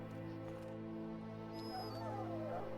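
A dog whimpers and yips softly in the Dragon Age Origins video game, faint, with a few rising whines over a steady droning tone.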